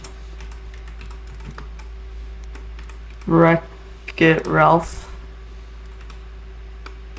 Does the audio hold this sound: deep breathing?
no